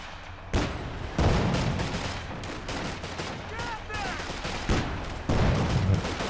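Long-range gunfire in the real-time strategy game Company of Heroes 2, a 2v2 match: repeated loud cracks and bursts of shots crackle over a dense battlefield din, with a voice talking over the action.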